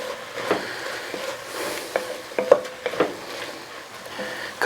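Beef stew seasoned with chili powder simmers and sizzles in a pot, with a soft steady bubbling broken by occasional stirring clinks and scrapes.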